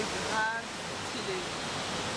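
Waterfalls near Ubud, Bali, a steady broadband roar of falling water filling the whole clip, with faint voices barely audible beneath it.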